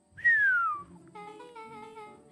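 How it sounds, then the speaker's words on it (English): A low, falling whistle from the character Rolo in the video game Beacon Pines, clear and close, sliding down in pitch for under a second before soft game music takes over. "Rolo let out a low whistle."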